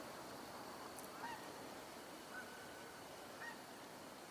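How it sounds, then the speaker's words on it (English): Faint, distant goose honks from a bird in the air over an outdoor wetland area, a few scattered calls spaced a second or so apart against a quiet background hiss. "I hear another goose in the air, I think."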